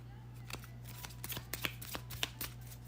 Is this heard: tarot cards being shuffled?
yes